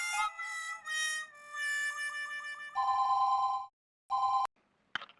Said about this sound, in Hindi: मेहता साहब, आप जल्दी से ऑफिस में फोन करो और बोल दो आज आप नहीं आ पाएंगे।